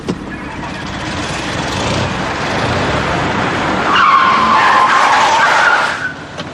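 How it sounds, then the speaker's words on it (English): A car pulls away hard in first gear, engine revving loudly with a sustained tire squeal and skid that rises midway and then fades, close and continuous. "I want you to put that car into first gear and move it"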